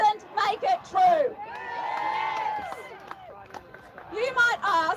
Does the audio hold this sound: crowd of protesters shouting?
yes